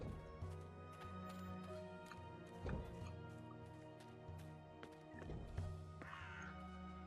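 A talking bird caws loudly and harshly in the video game Dreamfall Chapters, repeating the call several times over a low, steady game music bed.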